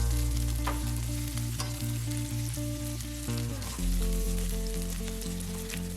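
Mushrooms fry in a pan with a steady close sizzle during cooking of creamy chicken, over a constant low hum, with no talk.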